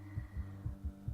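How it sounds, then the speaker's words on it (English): Heartbeat effect from the horror video game The Letter: a deep, regular lub-dub pulse, four strong thuds at a quick, steady pace over a low hum, with no voices. "heart pounding rapidly against my chest"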